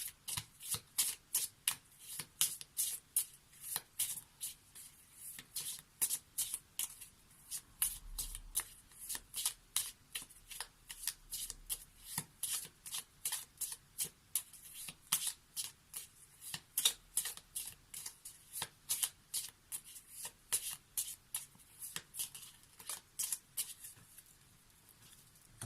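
Lenormand oracle cards are shuffled by hand for many seconds in quick repeated bursts of crisp, papery riffling, close and fairly quiet, with no talk over them.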